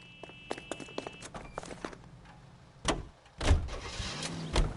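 Entering a car in L.A. Noire: a run of quick footsteps and clicks, then a door thump and a louder door slam with engine rumble, fairly close with no talk.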